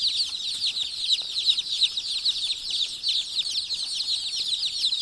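Day-old chicks of the KC3 breed from Kari, kept in an unheated brooder, chirp in a dense, continuous high-pitched chorus that stays steady and close throughout.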